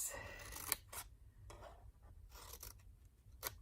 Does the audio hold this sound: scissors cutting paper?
yes